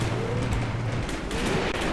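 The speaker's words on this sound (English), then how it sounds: "We got an enemy machine gun causing us some trouble here." Enemy machine gun fire in the WWII tactical wargame Graviteam Tactics: Mius-Front, a dense, steady rattle of gunfire mixed with battlefield rumble, sustained throughout without talk.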